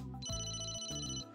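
A cell phone rings in the Emio: Famicom Detective Club video game. A short electronic ringtone plays a bright, melodic pattern of tones, clear and close, with no speech.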